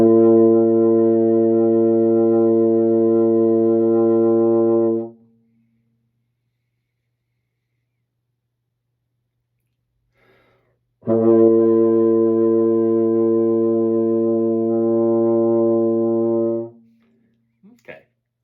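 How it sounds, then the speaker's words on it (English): Baritone horn sustaining two long B flat tones of about five seconds each, steady and full, separated by a rest of equal length, with a faint short noise at the end. "you're going to play the long tone, and then you're going to rest"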